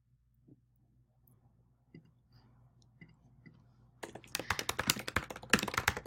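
A computer keyboard is typed on to enter a name, starting with a few faint scattered taps and then breaking into a burst of rapid, close, crisp keystrokes in a quiet room.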